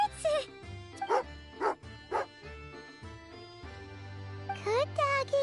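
A dog in the video game Genshin Impact barks and yips in short repeated bursts with a faint whimper, alternating with game music and a character's voice speaking between the barks.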